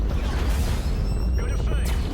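A placed charge detonating in Call of Duty Infinite Warfare, with a heavy low boom rumbling beneath military radio chatter and a voice speaking over it.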